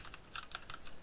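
Mechanical keyboard keys clacking in quick irregular bursts, picked up faintly by a Sahara SD2402 attachable gaming microphone, with no voices.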